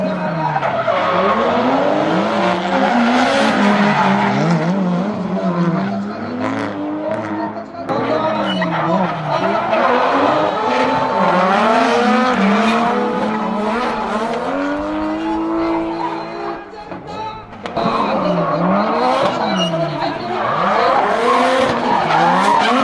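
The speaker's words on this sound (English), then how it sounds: "They're doing the top 4 of the drift competition now." Drift cars skid around the course at a drift competition in Odaiba, tires squealing and engines revving loudly and continuously, with repeated rising and falling engine sweeps and a crowd or announcer voice faintly underneath.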